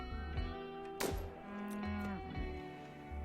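A cow in the video game RimWorld moos in several long, loud bellows that rise and fall, standing out over steady game sounds and a faint background tone.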